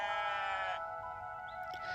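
A goat named Elvis bleats in a pasture, one drawn-out wavering bleat that is faint and somewhat distant and then fades into quiet background.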